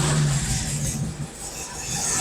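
An old car's engine hums and swells in a soft rev as the gas pedal is pumped after starting, a steady mid-range drone rising and easing over about two seconds.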